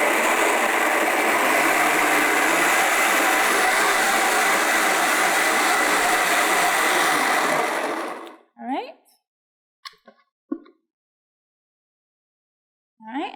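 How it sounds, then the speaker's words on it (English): A BlendTec high-powered blender runs on medium speed through raw nut meat chili, a loud steady whirring roar lasting about eight seconds before cutting off, followed by a few brief bursts of talk in the quiet afterward. "I'm going to blend this on a medium speed."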